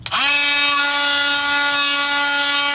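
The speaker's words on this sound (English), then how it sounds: "ensure that you thoroughly sand all the portions of the metal that you're going to place the putty" A steady, loud whining buzz of a power sanding tool starts abruptly and holds constant, working over a metal car exhaust pipe around leaking spots before repair putty is applied.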